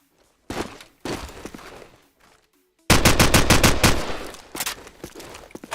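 Gunfire in Call of Duty 4: Modern Warfare during a 1v1 free-for-all match, starting as short bursts and pauses, then a loud rapid automatic volley of evenly spaced shots that tapers off.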